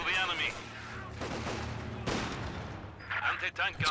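Clattering machine gun fire and bursts in the Company of Heroes 2 video game, moderately loud with short volleys, heard under ongoing talk.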